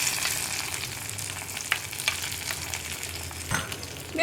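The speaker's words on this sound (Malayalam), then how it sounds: "അപ്പോൾ നമ്മുടെ വറവ് നമ്മൾ കറിയിലേക്ക് ചേർത്ത് കൊടുക്കുകയാണ്." Hot tempering poured into a green gram and ash gourd curry crackles and sizzles steadily, loud and close, with a few sharper spits and pops scattered through and no talking.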